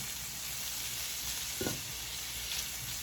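Shrimp sizzling in a pan with a small pat of butter, a steady bright frying hiss throughout, with a short scrape of stirring around the middle and no voices.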